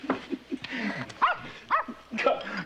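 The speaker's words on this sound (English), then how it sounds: "Call off your dog, Bunny." A dog in a 1970s TV drama barks and yips several times in short, fairly close bursts, with some whimpering tones, heard alone without any talk over it.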